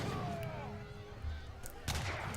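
Tower and town center fire in an Age of Empires III match, with a few booming gunshot-like blasts over a busy battle mix and a sharp crack near the end.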